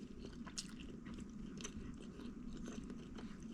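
Quiet, close chewing and biting of shrimp pad thai with bok choy and shiitake mushrooms, a steady soft crunch with small clicks over a low background hum, no talking.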